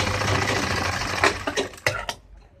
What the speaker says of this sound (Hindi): यहाँ पर पॉकेट के मुंह पे जो है सिलाई लगा देंगे